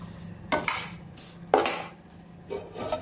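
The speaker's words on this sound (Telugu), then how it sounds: "సేమియా అయితే నేతిలో వేయించేస్తున్నాను" Vermicelli frying in ghee is stirred in a pan, heard as close scraping, rustling strokes that come in a few separate bursts over a faint sizzle.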